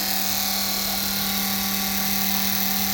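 Electric fuel pump in a VW Beetle turbo EFI fuel system, running mineral spirits through the lines, drones steadily at close range with a constant high whine and no variation, alone without voices.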